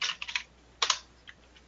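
Fingers tap out a new name on a computer keyboard in short clusters of crisp, close clicks separated by brief pauses, soft overall and with no voices.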